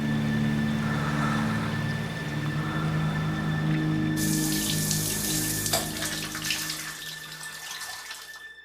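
Shower water runs in a steady hiss and splash, first under a low hum, then a brighter, fuller spray as the flow changes partway through, fading slightly toward the end. No one speaks.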